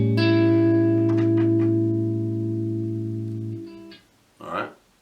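One guitar chord is strummed and rings out with a long sustain, a few light fret noises over it, then is damped before a brief voice.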